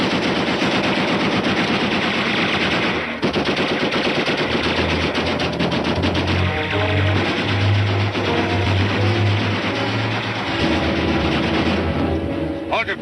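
A war movie battle scene is filled with sustained automatic gunfire, dense rapid bursts of machine-gun shots, loud and continuous, while a voice shouts partway through.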